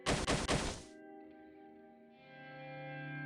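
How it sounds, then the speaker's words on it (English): Heavy thumping in the horror visual novel Higurashi When They Cry: three quick, booming thuds at the start, then a lingering reverberant drone and tonal hum with no voices. "Yeah, that keeps thumping, right?"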